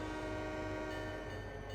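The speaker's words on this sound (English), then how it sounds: "again, same old horn and bell" A sustained locomotive horn from Trainz Simulator 3, a steady chord of tonal harmonics holding loud and close for the whole moment over a low rumble, with no break or fade.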